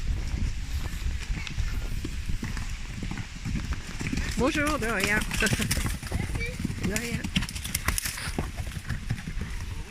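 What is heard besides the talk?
small horses passing by, hooves clip-clopping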